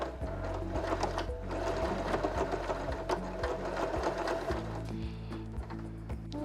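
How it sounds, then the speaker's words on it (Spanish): A Janome 311 sewing machine stitches fabric, a close, steady mechanical whir with rapid rhythmic needle pulses that pause briefly and then resume. "Vamos a comenzar a coser y remataremos."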